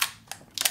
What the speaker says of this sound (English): you can hear the shutter is certainly far slower than it was